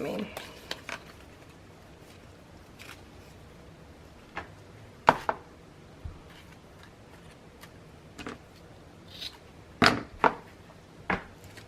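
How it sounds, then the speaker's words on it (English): Paper pieces for a scrapbook page are trimmed down with a cutter or scissors in sharp, scattered clicks and snips, close and spaced irregularly, while someone talks. "I need to cut these down just a little bit."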